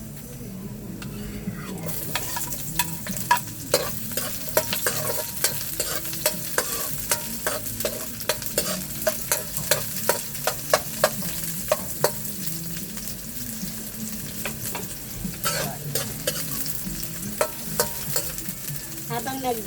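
Chopped onion sautéing in a hot pan of oil for Filipino chicken adobo, a steady loud sizzle with repeated sharp scrapes and clacks of a stirring utensil throughout; a voice speaks briefly.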